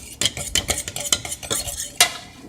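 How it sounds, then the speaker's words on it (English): Focaccia dough with a dash of onion powder being stirred in a bowl, a run of quick scraping, clattering strokes in an uneven rhythm, close and fairly loud with a sharper knock near the end. "Mixing this up some more"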